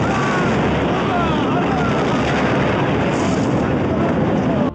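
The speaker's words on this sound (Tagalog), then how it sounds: "biglang nangyari ang isang malakas na pagsabog at lumalabas na isa itong airstrike ng Amerika" A heavy, continuous roar from an American airstrike fills the scene, loud and dense from start to finish, with a slight swell partway through and no distinct separate blasts.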